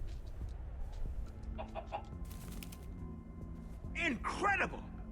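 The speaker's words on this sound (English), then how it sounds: "It's a king chicken!" A king chicken in the Minecraft Story Mode game clucks in short bursts, building to a louder squawking flurry near the end over game background sounds.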